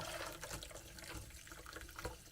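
Boiled cabbage dye poured through a strainer into a mixing bowl, a continuous splashing trickle of liquid, close and fairly quiet, running steadily with no talking.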